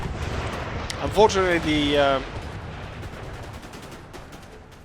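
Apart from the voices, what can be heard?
gunfire at walls in video game Imperial Destroyer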